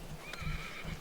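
A horse at a wilderness camp gives a short whinny, a brief high wavering call over low shuffling and hoof sounds nearby.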